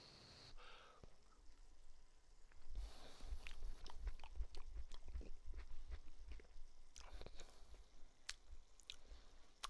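Soft wet chewing of taco beef mince with onion, close and quiet, a steady run of squishy bites and mouth sounds starting a few seconds in, with no talking.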